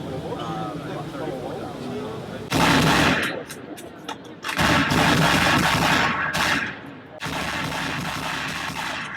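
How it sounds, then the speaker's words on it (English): Simulated gunfire at a military training and simulation conference, loud bursts of rapid shots and rattling fire in several long stretches, with people talking around it. "it's a military conference, and so you get to shoot stuff"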